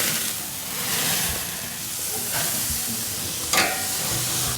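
Beef for fajitas sizzling steadily in a hot pan just after being flipped, a loud, close, continuous hiss and crackle with a brief flare near the end, no voices.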